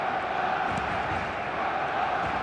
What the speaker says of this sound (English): the roof's just about stayed on, but the crowd level has gone up a notch or 10